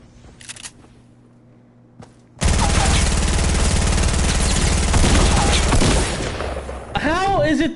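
Loud, sustained bursts of rapid gunfire in the video game Fortnite, beginning abruptly after a quiet stretch and running for several seconds, with a voice briefly heard.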